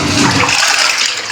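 A toilet in a small apartment flushes loudly, with a rushing gush of water that drains away into a hissing refill, heard alone and close.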